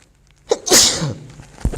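A single close, loud human sneeze with a short intake of breath before it, set in a quiet indoor classroom discussion, followed by a faint murmur.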